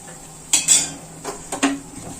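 Freshly cooked Mysore pak, a ghee-rich sweet, being scraped out of a pan into a vessel with a metal spoon, giving a few sharp clinks and scrapes against the metal amid a quiet kitchen background.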